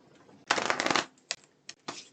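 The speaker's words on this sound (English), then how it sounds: "I'm just going to be shuffling the cards here" Tarot cards being shuffled by hand, a long loud riffle followed by three short brisk bursts of shuffling, close and alone without talk.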